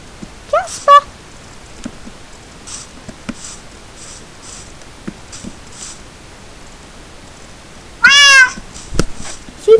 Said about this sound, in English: Oh, you naughty kitty cat.